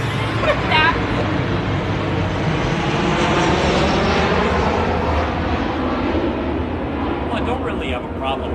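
An airplane flies over near an airport, its engines making a loud, steady, broad roar that fills the whole stretch and eases slightly toward the end, with faint voices mixed underneath.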